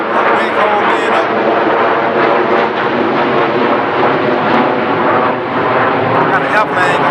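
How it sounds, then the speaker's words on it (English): A fixed-wing airplane passes overhead as a loud, continuous broadband roar filling the whole stretch, recorded outdoors near College Park and East Point, with no clear talking. "got an airplane going by"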